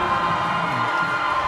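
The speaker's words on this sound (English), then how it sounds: "the crowd is going absolutely wild for Alison Chan right now" Crowd at a women's darts match cheers for a player walking on, a steady wash of distant roar and shouting that holds level throughout without any single clear voice.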